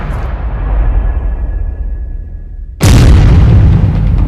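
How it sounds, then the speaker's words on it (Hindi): A Greek oil tanker in the Red Sea is blown up; a low rumbling roar gives way to a sudden, very loud, close boom that keeps thundering afterward. "हम आपको दिखाते हैं हूथी ने कैसे ग्रीस के तेल टैंकर को धमाके में उड़ाया"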